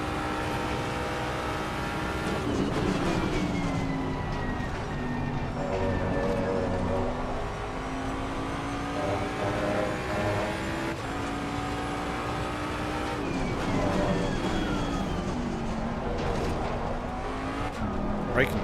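A Ford Mustang GT3 race car drives on track, its engine note rising and falling through repeated upshifts and downshifts, loud and sustained, with a driver talking over it.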